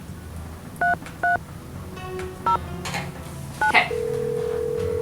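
Touch-tone dialing inside the Nancy Drew: The Final Scene video game: a handful of short, separate beeps spaced out unevenly, followed by a steady tone that keeps going, with one brief spoken word in the middle.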